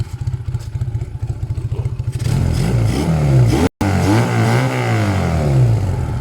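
Engine running and warming up after an air-fuel mixture adjustment, with a rhythmic chugging idle that rises into louder revving with wavering pitch, close and continuous.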